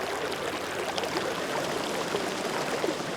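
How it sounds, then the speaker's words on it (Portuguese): Water from a spring runs like a small stream near the Ribeirão Quatro Cantos, a steady broadband rush and babble that stays loud and even throughout with no voices. "ela corre como um riachinho, vai recebendo outras aguinhas e ela se junta aqui embaixo"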